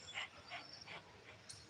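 A person imitates a dog panting with about four quick, breathy puffs in an even rhythm, close by and fairly soft, with no other talk.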